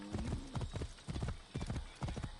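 Steady clip-clop of a horse's hooves in Assassin's Creed Origins, a quiet repeating rhythm of hoof strikes at walking pace.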